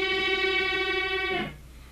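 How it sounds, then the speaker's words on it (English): Unison bend on an electric guitar's G and B strings, with the first finger at the seventh fret of the B string: a sustained, steady two-string tone ringing alone for over a second before stopping abruptly. "This is called a unison bend, and it will sound like this."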